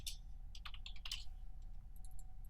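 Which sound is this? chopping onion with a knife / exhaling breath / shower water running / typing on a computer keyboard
typing on a computer keyboard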